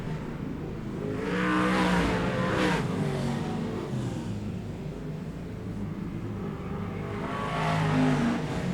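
Speedway race cars race at Rotorua Speedway at night, bouncing through a rough hole in turn two. The engines roar loud and continuous, swelling twice as cars sweep past, with no voices.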